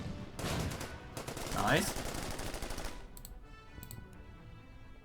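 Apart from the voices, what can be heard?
tank attack gunfire in Order of Battle video game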